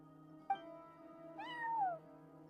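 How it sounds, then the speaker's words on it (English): A cat in the video game Genshin Impact gives a short chirp followed by a longer drawn-out meow, close and clear over a low steady background hum. "Oh, there's a cat."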